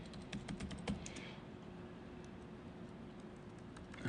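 Keys clatter in quick irregular bursts on a computer keyboard during a live demo at a security conference, faint against steady room hum, with the typing thinning out after the first second and a half.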